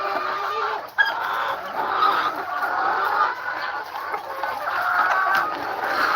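Caged chickens clucking on a small farm, a steady chorus of overlapping clucks and soft calls from several birds nearby, with a sharp knock partway through.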